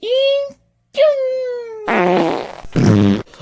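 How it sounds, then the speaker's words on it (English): A voiced fart blast attack from Peekapoo in a video game, two loud buzzy raspy bursts following a high cartoonish sung voice, each burst about half a second and close up. "Peekapoo, use a fart blast."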